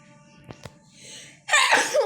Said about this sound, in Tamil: அம்மா, தும்மல் வேறு வருது.